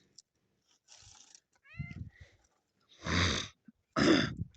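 A farm cat gives several short meows and chirps, close and clear, with a couple of longer, louder cries near the end in otherwise quiet surroundings.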